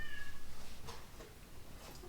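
An elderly, somewhat deaf female pet cat gives a faint, drawn-out meow at a distance indoors, with a few soft, muffled cries after it in an otherwise quiet room.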